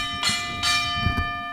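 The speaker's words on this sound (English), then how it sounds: "Ring the bell." A wrestling ring bell at a live free wrestling show rings out in two loud, resonant strikes with long sustained metallic tones, followed by a softer third hit amid low rumbling background.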